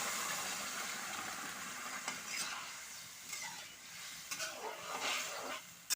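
A pan of curry sizzles and hisses steadily as boiled potato and outenga cooking water go in, with soft stirring scrapes and bubbling close by.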